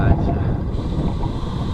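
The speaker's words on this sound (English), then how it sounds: "You can feel the wind now, I guess. It's blowing heavy" Heavy wind buffets the microphone on a road trip through western New South Wales, a steady low roar of rumbling gusts that runs the whole time with no pause.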